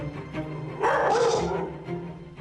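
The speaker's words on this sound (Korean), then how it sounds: "설쌤의 등장에 무섭게 짖기 시작하죠." A Jindo dog barks fiercely at a stranger in a burst of harsh, overlapping barks that swells in the middle and then eases off, heard close and loud over a low background hum.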